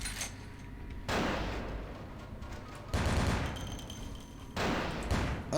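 Gunfire from a gun in the video game Vampire the Masquerade: Bloodlines comes in three loud bursts of rapid shots separated by short pauses, with no talk.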